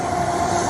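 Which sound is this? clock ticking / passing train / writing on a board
passing train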